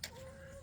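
A lavender chicken gives a single short, faint cluck lasting under a second, close by with no other sounds.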